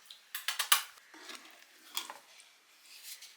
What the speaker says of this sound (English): Watch me stir this in.